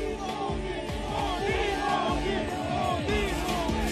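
A large crowd at Narendra Modi's nomination rally in Varanasi, India, a steady, dense roar of many voices cheering and shouting over one another, with whoops rising and falling throughout.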